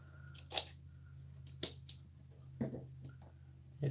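Scissors trim excess canvas from a laser-cut album: a few sharp, close snips spaced about a second apart over a quiet room hum.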